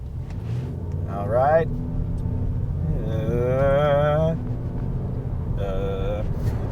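2019 Nissan Altima with a CVT accelerating and mimicking automatic gear changes, engine drone rising in pitch in stepped bursts then dropping, heard from inside the cabin with brief talk.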